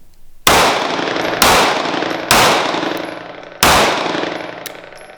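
Four loud, sharp Sig P365 pistol shots fired at a range from a limp, two-finger grip, spaced roughly a second apart, each with a brief ringing tail and no talking between them.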